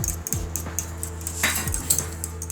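Utensil clinking against a bowl while omelette ingredients are mixed, a few light scraping and tapping strokes close by, no talking.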